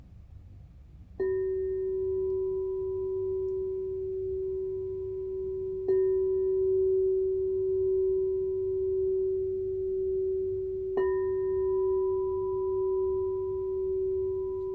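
A 7-inch F# crystal alchemy singing bowl is struck three times, each strike ringing out into a pure, steady sustained tone that hums on between hits.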